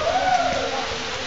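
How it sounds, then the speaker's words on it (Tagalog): Hail falls heavily outdoors, a steady dense patter and hiss of ice hitting surfaces that keeps up without a break for the whole stretch. "Dahil lumakas ang yelo. Nagyelo dito ngayon."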